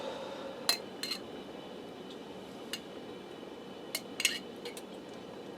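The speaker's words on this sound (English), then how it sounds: "I'm going to take some more of that pasta sauce and put it over top of the pizza lasagna roll-ups." Pasta sauce is spooned over pizza lasagna roll-ups in a pan, with sparse light clinks of a metal utensil against the pan over a quiet background.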